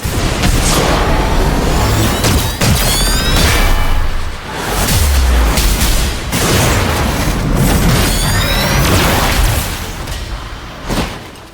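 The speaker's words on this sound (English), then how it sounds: "We've got incoming fire." Incoming fire in the video game Marvel's Midnight Suns: heavy, loud explosions and booms with whooshing projectiles and impact slams, coming in repeated bursts across the battle.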